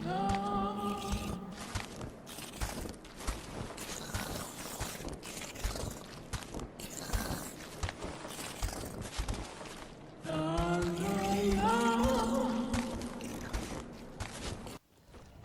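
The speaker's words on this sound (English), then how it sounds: "The brain trusts enemies' squishy footstep sounds." Squishy footsteps of Brain Trust enemies in the Bloodborne video game: a run of wet, slapping steps with scraping thuds, backed at moments by low groaning tones, moderately loud and close.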